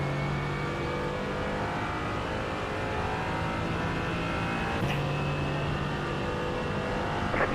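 A GT4 race car engine in the iRacing video game at Daytona drones steadily with a shifting tone, loud and close, with a brief change near the end and no talk.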